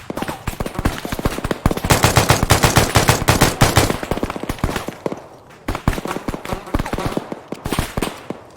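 Machine guns fire in the Arma video game in rapid, loud bursts of rattling shots, with a short pause before more sustained firing, and faint voice chatter mixed underneath.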